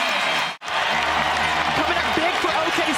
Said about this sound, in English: the crowd here at Paycom Center appreciating the effort